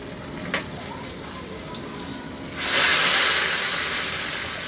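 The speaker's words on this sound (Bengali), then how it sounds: "এখন এর মধ্যে আমার এই বাগারটা দিয়ে দিতে হবে।" Hot tempering poured into warm dal, bursting into a loud, steady sizzle that swells partway through and keeps hissing, preceded by a quieter background of kitchen noise.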